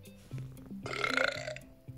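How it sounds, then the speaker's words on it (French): A long, loud, gurgling burp rises over a soft background of music in a children's story, stretching for about a second. "en laissant échapper un énorme rot"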